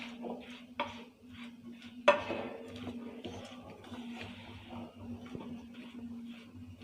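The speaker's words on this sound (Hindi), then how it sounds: "बहुत जल्दी कुर्छी से हिलाएंगे ताकि चाशनी अच्छी तरह से शक्करपारों पे कोटिंग हो सके" A ladle stirs shakarpara in sugar syrup inside a metal pan, giving scattered scraping clinks and one sharper knock against the pan over a faint steady hum, with no talking.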